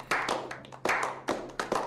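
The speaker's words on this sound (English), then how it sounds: "That slow clap is so distracting." Slow, isolated hand claps in the video game Hitman 2, about five, spaced unevenly with a short ringing tail after each, fairly quiet and close.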